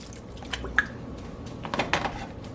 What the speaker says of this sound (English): In goes the turkey breast.